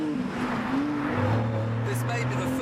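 A Lamborghini Murcielago supercar with a 6-speed gearbox and 7,800 rpm redline roars loudly from inside the cabin, engine pitch rising and shifting under acceleration, with a voice talking over it.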